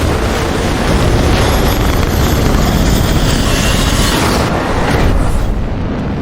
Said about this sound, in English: Take off on the runway on the deck of the aircraft carrier.